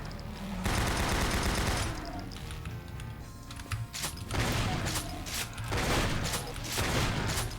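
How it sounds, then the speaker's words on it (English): A machine gun fires in Doom 64 gameplay, with dense bursts of rapid shots that stop and restart, up front and loud under in-game effects. "the machine gun jibbed the caco"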